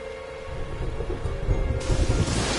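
Storm in Dragon Quest XI, with a constant hiss of rain and a low rumble of thunder that swells midway and stays loud to the end. A steady tone sits underneath and no one speaks.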